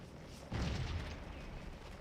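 A single heavy artillery boom in the Civil War battle game Scourge of War: Gettysburg, a sudden deep blast that rolls on with a rumbling tail over faint battle ambience.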